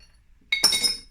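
Metal motorcycle parts dropped into a glass jar for sandblasting, a short bright clatter of clinks after a moment of quiet, close and fairly loud.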